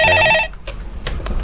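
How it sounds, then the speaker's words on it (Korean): A telephone rings loudly with an incoming call, a bright electronic trill that cuts off abruptly, followed by faint room noise and soft clicks. "네, 전화네요"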